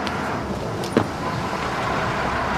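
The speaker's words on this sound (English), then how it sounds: "Well, it's my bus." A bus idles and rumbles at a stop in a steady, close low engine drone, with a brief soft knock in the middle and no one speaking.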